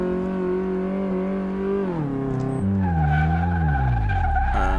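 Car braking hard in Car Mechanic Simulator 2018's brake test, engine note falling as the tires skid and squeal loudly for several seconds, alone and close.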